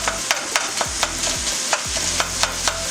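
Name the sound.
ground pork frying and being chopped in pan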